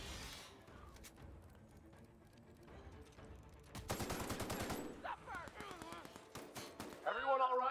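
Turret gunfire in the video game The Outer Worlds: bursts of rapid automatic shots build up midway and keep hammering through the rest, loud and close, mixed with game effects and voices talking over it.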